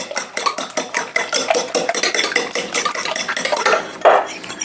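Eggs mixed with vanilla being beaten in a bowl, a quick run of clinking, scraping strokes at a steady rhythm, close and fairly loud, with no talking.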